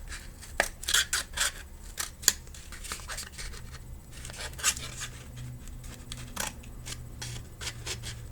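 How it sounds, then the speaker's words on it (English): Scissors snip out a couple of small triangles from paper or card for a craft house's steps: a close, irregular run of sharp cuts and paper rustles with brief pauses. "Basically cutting out a couple of triangles, and that's going to make the steps to go up"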